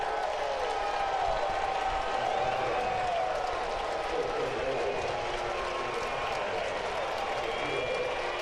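Stadium crowd at a Cardinals vs Reds baseball game applauds and cheers in a continuous, dense wash of clapping and voices, with a commentator talking over it.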